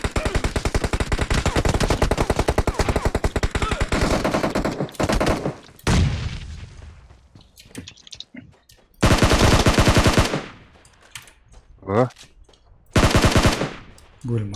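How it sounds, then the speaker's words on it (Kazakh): Automatic and rifle fire from PUBG Mobile on the Miramar desert map, a long loud burst of rapid shots, then a pause with scattered single cracks before two more dense bursts close by. "Артынан снайпер атып атыр біздің позициядан"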